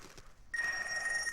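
A mobile phone suddenly starts ringing after a brief quiet stretch, a bright electronic tone that sounds steadily and fairly loud nearby until the end.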